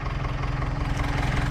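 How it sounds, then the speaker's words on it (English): A blue 6610 tractor hitched to a round baler idles close by, a low, steady, throbbing engine rumble with an even pulsing rhythm and no talk. "Beautiful blue tractor. Got the 6610 out on the round baler"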